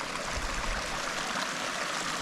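A small creek in the Colorado Rockies, feeding toward the Arkansas River, trickles and washes steadily over rocks, a continuous close hiss of running water with no break or other sound.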